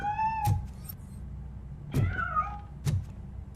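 Several short meows from a cat in the RoboCop: Rogue City game, spaced apart over low engine-like background hum, fairly clear and close with no talk.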